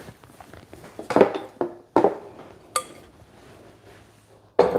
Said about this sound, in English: just forgot to grab my other mixing bowl from the side